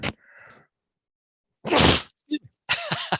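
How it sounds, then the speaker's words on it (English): A single sharp, loud sneeze bursts out, with a short gasping intake beforehand and a few quick breaths and small mouth sounds trailing after it. "I felt a sneeze coming on."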